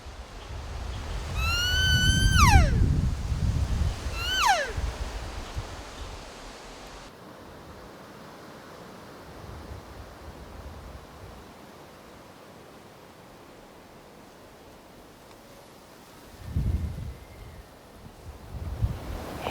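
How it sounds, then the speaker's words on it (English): Wind swirls outdoors on an elk hunt in New Mexico, a broad, rumbling roar that buffets the microphone in gusts, strongest near the start and again near the end, with a distant bugling elk call early on. "That wind was just swirling like crazy"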